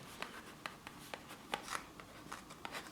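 Pen scratching out a label on a freezer food container, a run of quick soft strokes and taps, close and quiet with faint background noise.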